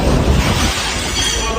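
Glass crunches and shatters loudly underfoot amid rough, blustery noise during a hurricane in Jamaica, a dense gritty burst that continues without a clear break and no talking over it.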